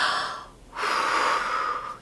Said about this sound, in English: Take a deep breath.